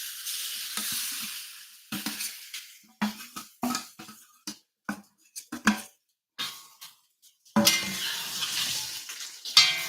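Chicken tossed with baking soda and soy sauce sizzles in a cast iron wok, with repeated scraping and clattering stirs in short bursts, then a loud continuous hiss of frying near the end.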